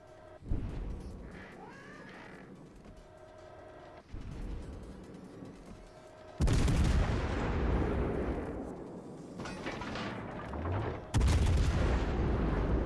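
Warship guns firing in World of Warships: Legends, several heavy booming salvos with sharp onsets and long rumbling decays, loud and close, spaced a few seconds apart.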